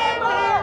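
Protest crowd chanting in unison on a street march toward LMPD police headquarters, a dense sustained roar of many voices held steady through the short moment.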